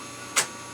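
A vintage printer tested under Windows 98 gives one short, sharp mechanical clack as it grabs a whole ream of paper from the tray, then a fainter click follows, close and alone.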